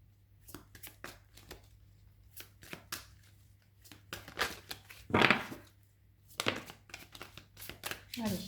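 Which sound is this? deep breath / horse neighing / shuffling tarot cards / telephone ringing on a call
shuffling tarot cards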